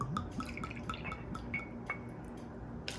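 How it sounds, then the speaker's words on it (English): Two ounces of rum poured into a shot glass: a quiet trickle of small drips and glassy clinks, close and faint, with no voices. "And then add 2 ounces of rum."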